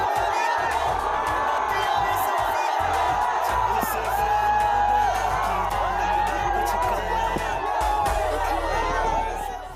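A large crowd cheers and shouts for Bhojpuri star Pawan Singh at a Bihar election event, with whoops and chatter in a dense, continuous roar while a voice talks over the noise.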